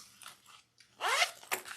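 A zipper on a handmade bag's pocket is worked in a few short tugs, then one long, loud, close pull followed by a quick final zip.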